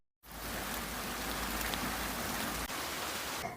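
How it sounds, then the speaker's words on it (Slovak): Steady rain falls in a dense, even hiss that begins abruptly and holds for several seconds, close and continuous with no voices. "nám už dosť prší"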